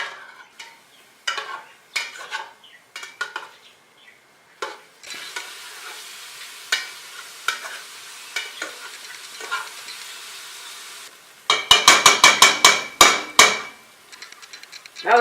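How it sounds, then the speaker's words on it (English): Onions sautéing in a pan, with a steady hiss of frying under repeated scrapes and knocks of a spatula stirring them, louder clattering bursts near the end. "we're going to be sauteing these until the onions are translucent in color"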